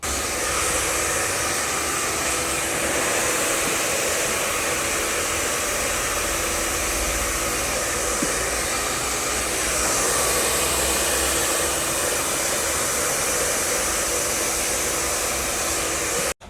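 A hair dryer roars in a steady, loud, unbroken blast while straightening hair during a nanoplastia treatment, running close and constant throughout before cutting off at the end.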